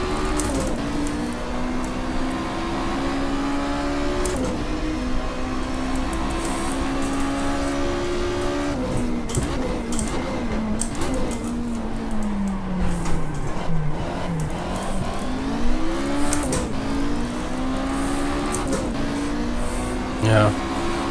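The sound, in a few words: race car engine in GTR2 video game, Ford Escort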